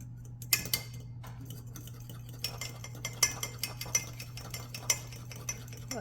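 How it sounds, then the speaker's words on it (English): Spoon stirring hot mixture into egg yolks in a bowl to temper them: light, repeated clinking and scraping taps at an uneven rhythm, close and fairly quiet, over a steady low hum. "I'm going to put some of this mixture into my egg yolks to temper the eggs so they won't scramble"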